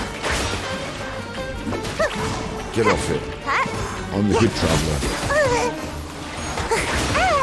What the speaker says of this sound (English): Stop smashing me with your swords